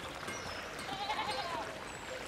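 Sheep bleat outdoors, a faint wavering call rising briefly above a busy, noisy background, distant rather than close.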